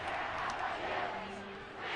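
The Fishers high school student section cheers at a football game against Hamilton Southeastern, a loud, boisterous mass of voices yelling from the far sideline bleachers, heard as a dense, continuous roar.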